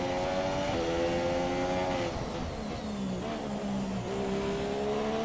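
F1 2017 Toro Rosso race car in a Baku race, engine whining loud and steady as it downshifts hard under braking into a corner, pitch stepping down with a hint of tire noise.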